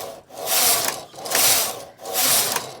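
A flatbed knitting machine carriage sliding across the needle bed knitting rows, three long rasping mechanical sweeps in a regular back-and-forth rhythm, close and fairly loud with no talking.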